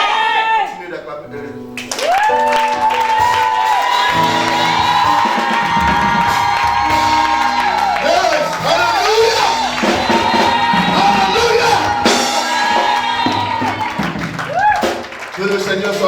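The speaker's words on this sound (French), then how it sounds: "Continuez d'acclamer." A church congregation at a French-language worship service claps, cheers and whoops loudly and continuously, with a sustained tonal instrument or singing running through the crowd noise.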